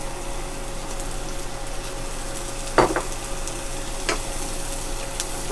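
Shallots sizzling in melted butter in a pan for a seafood cream sauce, a steady close crackling hiss with a brief scraping stir near the middle and a few light knocks, no talk.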